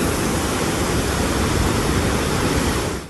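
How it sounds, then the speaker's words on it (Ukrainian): Floodwater pours down the streets of Kerch, a dense, steady rush that stays loud and near throughout before tailing off at the very end. "Бурхливі водоспади з доріг мчать до Міллякчесмі"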